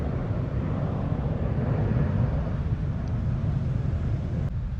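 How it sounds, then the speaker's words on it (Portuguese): An airplane passing overhead, heard as a broad, steady roar that swells slightly and then holds, like a distant jet rumble outdoors, with no speech over it. "Vou esperar o avião."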